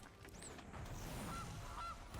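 Cartoonish goose honks sound as the Gilded Goose card is played in the MTG Arena video game: a few short honks, faint, over busy background game sound.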